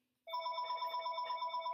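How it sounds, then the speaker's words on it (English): A telephone bell rings in a lecture room, a steady sustained electronic trill starting abruptly after a short silence and continuing loud and unbroken, with no voices over it. "this phone is super annoying and I can't turn it off."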